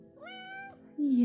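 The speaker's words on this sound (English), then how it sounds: "So she talks a lot, my cat." A pet cat named Misty gives a clear, close meow with a rising then falling tone, followed by a louder, brighter second call. A voice is heard speaking softly around it.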